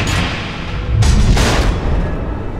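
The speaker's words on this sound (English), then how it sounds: "The missiles." Missiles explode in the video game Batman: The Enemy Within, two heavy booming blasts in quick succession over a low rumbling background, loud and close.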